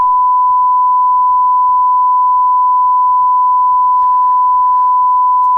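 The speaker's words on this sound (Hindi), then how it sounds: "इस लंबी बीप से आप अंदाजा लगा सकते हैं कि किस तरह से वरद हस्त तरीके से पुलिस वाले गाली देते हैं" A long, steady censor beep bleeps out a police officer's profanity in a news broadcast, holding one pure tone alone for over five seconds, with a brief muffled voice showing through near the end.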